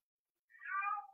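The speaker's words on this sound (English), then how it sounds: "My cat is in here howling and it's about to drive me crazy." A house cat howls indoors in a single drawn-out, wavering yowl lasting under a second, close and clear with nothing else around it.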